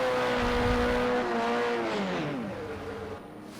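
Simulated race car engine from a European Le Mans Series video game round at Catalunya, humming loudly and then sliding down in pitch as it slows and fades toward the end, with no voices.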